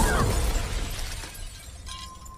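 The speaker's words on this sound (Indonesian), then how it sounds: "ia pun meluapkan emosi itu dengan menghancurkan kaca mobil" A car window is smashed in a loud crashing burst that decays into scattered tinkling debris, with a faint whistle-like tone near the end.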